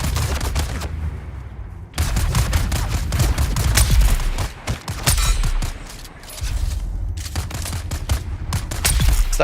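Bursts of gunfire in the video game Dune Awakening, aimed at a bike: rapid, loud volleys of shots that come in dense runs, separated by brief lulls.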